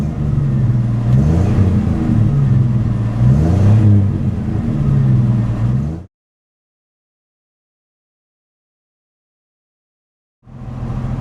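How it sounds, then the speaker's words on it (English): A truck engine revs up and down twice as gas is given on a warm day, loud and near with rising and falling whine, then cuts to silence before the engine sound returns. "we'll give it some gas"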